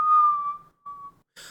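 A human voice imitating a slide whistle for a fall, a clear whistled tone sliding gently downward, pausing, then a short fainter continuation before a brief noise at the end.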